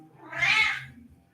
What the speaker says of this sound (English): While being yelled at by the cat